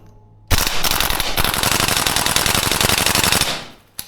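A Tokyo Marui AK gas blowback airsoft rifle fitted with a heavier recoil spring fires full auto in one long, loud, rapid burst of sharp cracks and bolt clatter, close by, lasting about three seconds before trailing off.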